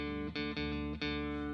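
Guitar D note played on the D string through a Boss OC-3 octave pedal, a sustained, thick tone with a sub-octave layer, re-picked three times in quick succession, close and alone.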